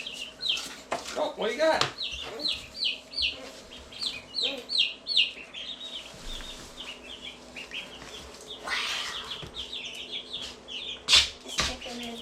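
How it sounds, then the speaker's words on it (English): A pet chicken on a homestead clucks in short repeated bursts, close by, with brief wing flaps and quick chirps, while people talk over it at times. "This chicken is the best chicken, actually."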